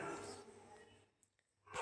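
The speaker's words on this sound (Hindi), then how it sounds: "कुत्ते बहुत से सुन रहे हो ना" Dogs barking somewhere outside, faint and distant, a couple of short yaps behind a low room murmur.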